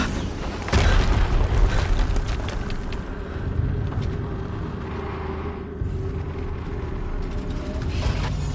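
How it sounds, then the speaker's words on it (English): An explosion in the video game Horizon Zero Dawn lands as a sharp, loud boom near the start, then fades into a long low rumble. "Another explosion."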